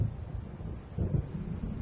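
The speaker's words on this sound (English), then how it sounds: "It seems there's a storm coming" A deep, low rumble of an approaching thunderstorm in the video game Alan Wake rolls steadily through the short stretch, swelling slightly midway, with no voices.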